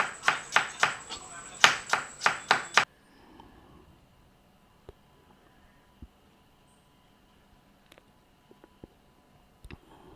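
A knife thinly slices potatoes for spicy sour fried chicken and potato, giving two quick runs of about five crisp, close, evenly spaced chops, then near silence with a few faint taps.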